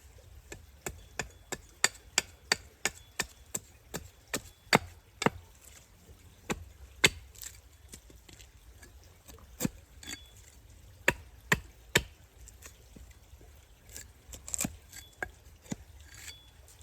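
Repeated sharp wooden smacks while flattening a carved spoon blank, struck at an irregular pace, some in quick bursts and others spaced apart, fairly close and crisp with quiet pauses between.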